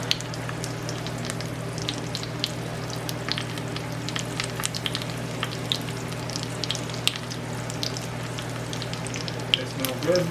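A garden dessert of cream cheese and dates fries in butter in a pan, sizzling steadily with crackles and pops and a soft scrape as the pieces are turned.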